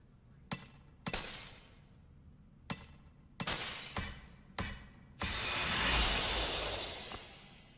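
Princess Zelda shattering glass in the game Echoes of Wisdom: a string of sharp crashes and tinkling breaks, then a louder sustained burst of shattering debris near the end.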